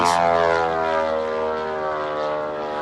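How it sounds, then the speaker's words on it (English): A Ukrainian FP-1 propeller drone passes close by, its loud harmonic buzz dropping in pitch as it moves away, then continuing as a steady drone with no voices. "That's probably the loudest drone that Ukraine fields."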